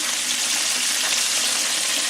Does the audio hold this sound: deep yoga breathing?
no